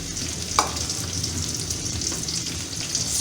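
Sliced garlic, five or six cloves, sizzles steadily in hot oil for a Kung Pao chicken, a close, continuous frying hiss with a brief stirring clatter near the start and no talking.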